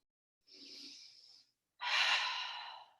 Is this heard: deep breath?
yes